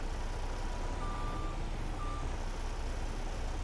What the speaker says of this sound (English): grab the skid steer. Start scooping some manure